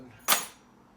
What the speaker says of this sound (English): now I'm just gonna throw them over here on the keys that I don't need